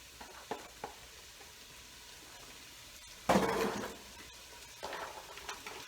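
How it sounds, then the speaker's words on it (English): Carrots tipped into a pot of sautéed onions for beef barley soup set off a short, loud burst of sizzling midway, which fades back to a quiet simmer with a few light clinks afterward. "So I'm going to put in the carrots."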